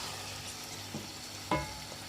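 Chopped tomatoes and chicken sautéing together in a pan for Bukhari rice, a soft steady sizzle with a couple of brief stirring scrapes, fairly quiet and close with no talking.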